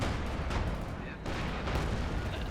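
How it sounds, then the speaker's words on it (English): An artillery strike in the video game Company of Heroes 2, with heavy rumbling booms and explosions that come in a dense wash and a brief dip, while a voice talks over the barrage. "There's a huge artillery strike coming"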